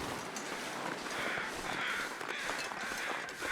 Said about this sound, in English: Interesting that there are so many carrion crows.